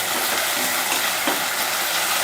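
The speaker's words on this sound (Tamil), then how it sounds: "இப்போ இதை நல்லா வதக்கிடணும்." Chopped onions and small tomatoes sizzle steadily in a hot pan as they are sautéed for a salna curry, a continuous close frying hiss with occasional stirring scrapes.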